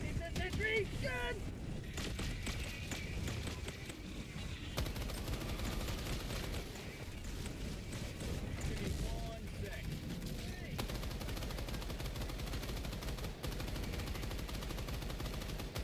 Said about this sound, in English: It's a sentry gun.